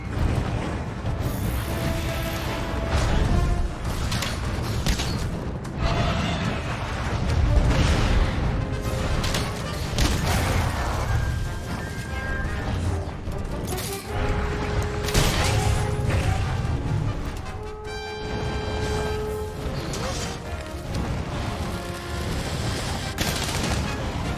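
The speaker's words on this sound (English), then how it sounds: "Slinger bombs." Slinger bombs explode in a Monster Hunter hunt as a dense, continuous barrage of sharp bangs and crackling blasts. Sustained tonal game sounds run underneath the whole time.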